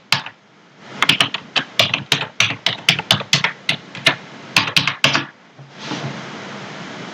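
Someone types a password on a computer keyboard in a quick run of sharp key clicks, with a short pause and a few more strokes, close and with no speech.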